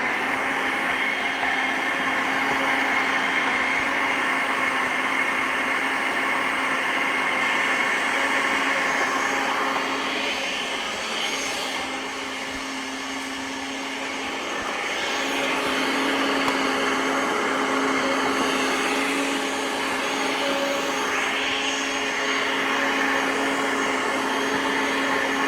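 Powerful countertop blender running steadily while making a smoothie, a loud continuous motor whine with a brief dip in pitch mid-run before surging back up.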